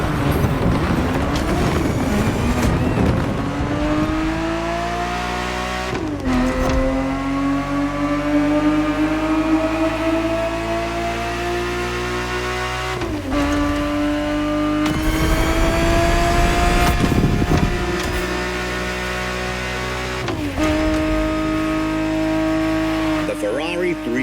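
A Ferrari 365 GTB4 from the 1970s races in The Crew Motorfest, its engine droning loudly and continuously, pitch climbing through repeated gear changes with brief dips between shifts across the whole stretch.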